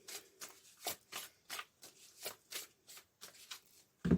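Archangel Michael oracle cards being shuffled by hand, a rhythmic series of about a dozen crisp riffling bursts at close range in a quiet room, ending with a heavier tap.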